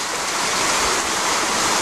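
A creek feeding Harrod's Creek on the Ozark Highlands Trail rushes steadily, a close, loud, unbroken hiss of flowing water with no voices.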